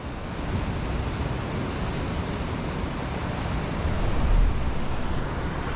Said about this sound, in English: We've got a bit of swell.